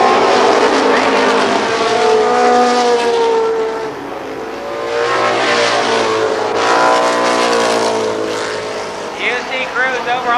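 A midget race car roars down the straightaway at a speedway, its engine sputtering and misfiring with uneven dips in the drone while a commentator talks over it.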